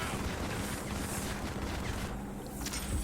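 Dense gunfire in the shooter Modern Combat 5: continuous rattling shots and booms in a loud, noisy battle mix with no pauses.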